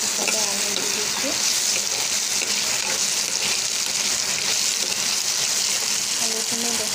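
Potatoes fry in hot oil with onions, a steady, dense sizzle filling the pan at close range for the whole stretch, with faint stirring and scraping now and then.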